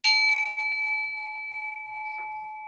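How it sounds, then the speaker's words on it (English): A single bell is struck once to close a yoga class, a bright, clear ring that decays slowly over almost three seconds with no talk over it. "I'm gonna ring a bell to send us on our way"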